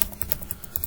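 Rapid typing of code on a computer keyboard, a quick irregular run of crisp close key clicks with no talking.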